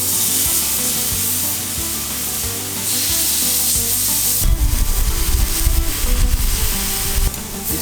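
Venison back strap sears in a hot pan, a steady sizzle that swells into louder, busier crackling halfway through as the pieces are flipped, continuous and close with no talk.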